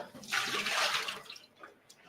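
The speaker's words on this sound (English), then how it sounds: "Just going to change my water." Water runs briefly from a kitchen tap in a confectionery school kitchen, rushing for about a second before trailing off into faint drips and small splashes.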